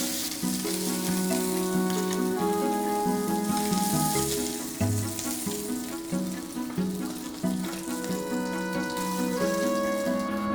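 Barramundi fries in a pan, sizzling and crackling steadily for about ten seconds, with occasional clinks and shuffles as it is moved and flipped.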